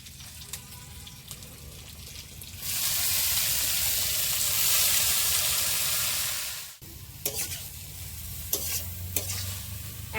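Kalmi greens (water spinach) hit hot oil with spices, bursting into a loud, steady sizzle that holds for several seconds, then drops off into quieter crackling and stirring scrapes, with no one talking.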